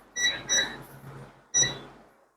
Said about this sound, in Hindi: देखिए बीप बजाया, इसका मतलब हमारा जो R2 है वो बगल में है।